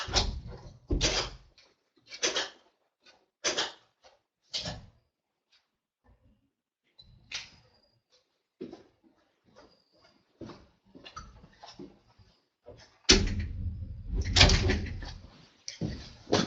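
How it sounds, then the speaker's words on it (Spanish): A door is pushed shut indoors among several loud, sharp knocks and thuds with quiet gaps between, followed by shuffling and handling noises as someone moves about the room. "Solo voy a cerrar bien la puerta porque ese ruido de fondo molesta"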